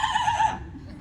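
A bird at a live bird show imitates a horse whinny, a bright wavering call about half a second long that fades into quiet background murmur.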